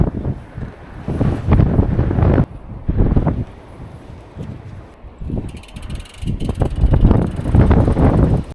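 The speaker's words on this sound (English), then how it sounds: "The winds are so strong." Strong, freezing wind in Iceland buffets a microphone during a bikepacking trip on the Ring Road, a continuous loud roar that surges in heavy gusts and briefly eases before rising again.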